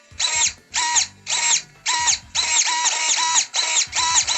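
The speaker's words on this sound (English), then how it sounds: "I'm not overly happy with these Savox servos. There's just something about them. They seem quite noisy and slower than I expected them to be." Savox servos in a Tamiya TT-02 RC car whirring in short bursts, about eight loud, close, high-pitched electric whines separated by brief pauses, one longer run in the middle.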